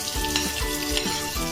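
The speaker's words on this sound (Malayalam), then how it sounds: "നമുക്ക് നമ്മുടെ കിസ്മിസും ഇട്ട് കൊടുത്തിട്ട് ഒന്ന് വറുത്ത് എടുക്കാം" Cashews and raisins fry in hot oil in a pan with a steady, loud sizzle throughout, marked by a few soft stirring knocks.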